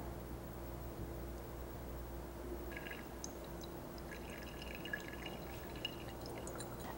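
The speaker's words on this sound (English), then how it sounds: "As I do this, you can see that the liquid starts to run out of the pipette." Liquid drains from a laboratory pipette into a test tube, giving a faint, sparse trickle and a few light drips over a low background hiss in a quiet room.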